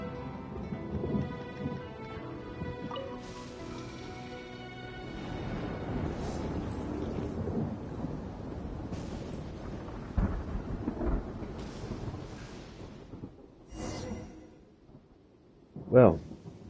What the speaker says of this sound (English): And yet the storm hasn't abated at all.